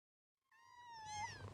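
A cat in the video game Before Your Eyes gives a single clear, rising meow that swells and wavers near the end, emerging from silence with no talk over it.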